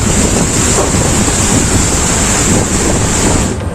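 Stormy sea surges around a tugboat caught in a storm, a loud, unbroken roar of crashing waves and wind buffeting steadily throughout with no voices.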